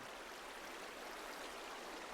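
Flowing water in a Minecraft mob farm gives a steady, even rushing hiss that holds constant throughout, with no voices over it.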